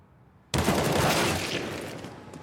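Sudden burst of gunfire in a Counter-Strike: Global Offensive match on the Overpass map, a loud, dense volley that starts abruptly and holds steady before slowly easing off, with no talk.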